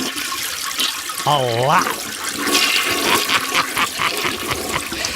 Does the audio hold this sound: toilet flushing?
yes